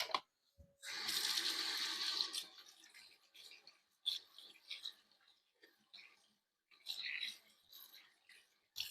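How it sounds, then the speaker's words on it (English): Running tap water splashes for about a second and a half as hands are washed at a sink, then thins into scattered faint drips and rubbing, with a brief second burst of flow later; quiet and close, with no talk. "So the first thing I'm going to do is I'm going to wash my hands."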